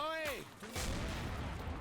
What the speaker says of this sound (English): Abrams is opening fire